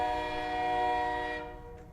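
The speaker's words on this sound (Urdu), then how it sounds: "اوے ٹرین آ گئی ہے، چلو چلیں" A train horn blares as the train arrives, one loud sustained chord of several tones that holds and then cuts off abruptly, leaving low rumbling behind.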